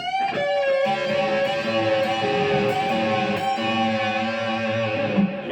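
A guitar's high E string bends upward at the 13th fret while the B string is picked above it, ringing together as a sustained, clean two-note sound with no talking.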